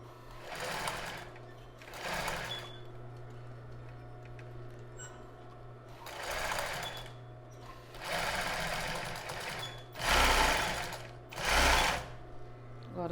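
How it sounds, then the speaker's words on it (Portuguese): A zigzag sewing machine flattens a seam on a child's bra in several short, loud stitching runs separated by pauses, with a low motor hum throughout. "agora a gente vai passar uma costura zigue-zague aqui para achatar"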